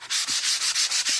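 Sandpaper rubbed by hand over a wooden barn door sign stand, a close, rhythmic scratching of quick back-and-forth strokes repeating evenly.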